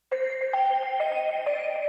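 Bright synth bell patch, lightly filtered, playing a short counter melody for a dark alt pop track: a few clear sustained tones that step between pitches, clean and close, with no voice.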